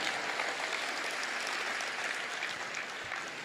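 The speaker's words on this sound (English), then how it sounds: "Let's give Scott a tremendous round of applause for a great job he just did." A seminar audience at a motivational talk gives sustained, even applause that stays level and fairly close throughout the short stretch.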